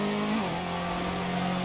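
A Ginetta Junior race car engine screams at a sustained high pitch as it over-revs during a Project CARS 2 race, the drone holding loud and steady with a slight dip in pitch partway through.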